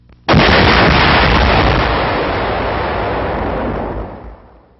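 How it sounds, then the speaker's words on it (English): An ammunition magazine explodes aboard the sinking battleship HMS Barham, one sudden, very loud blast that rolls on as a long, roaring rumble and fades over several seconds. "A magazine explodes."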